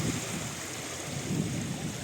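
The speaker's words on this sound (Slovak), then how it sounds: "Dosť veľké vlny sú" Large waves on Zemplínska Šírava lake heard from a fishing spot, a continuous rushing wash of water with gusting wind noise over the microphone, steady and close.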